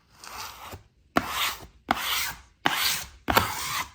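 Five rhythmic rasping swipes push trapped air out from under peel-and-stick vinyl wallpaper, each a close, hissing scrape separated by short pauses, with no talking.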